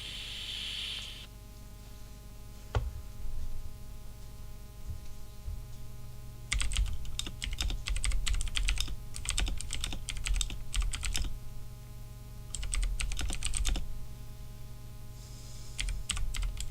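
Bursts of rapid typing on a computer keyboard, clustered keystrokes coming in several runs with pauses between, close and clear over a steady low background hum.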